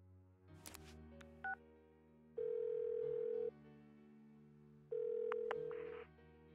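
A phone call ringing out unanswered in a video game: short beeps and tones, then two long steady ring tones separated by silence, fairly faint and clean with no voices.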